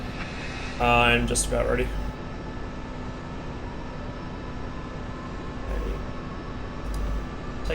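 A MiG-21 jet engine idles steadily after startup in a flight simulator game, a constant hum and drone under the whole stretch, with a voice speaking briefly over it.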